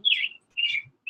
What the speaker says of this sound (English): there's a bird chirping